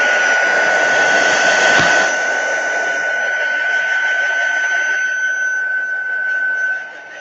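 A hair dryer blows steadily on a watercolor painting, a continuous close whirring hiss with a high whine that holds for several seconds, softens slightly partway through, then cuts down near the end.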